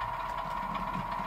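A Bachmann Class 24 model diesel locomotive's sound in light engine mode, a steady droning engine hum with a low rumble, continuous and even throughout.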